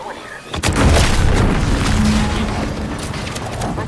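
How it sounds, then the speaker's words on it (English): A sudden heavy boom bursts in the video game The Outer Worlds 2, followed by a rolling, rumbling aftermath that slowly fades, loud and close. "What's that? An explosion?"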